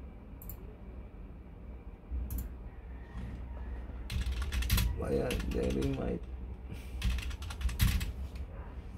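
Typing on a computer keyboard while working in AutoCAD, with bursts of rapid clicking keystrokes and a few isolated key presses close by, under a person speaking quietly.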